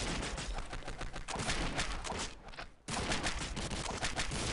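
Gunfire in the video game Postal 2, including sniper rifle shots, comes as a dense, loud barrage of rapid shots, broken by one brief lull before the shooting resumes.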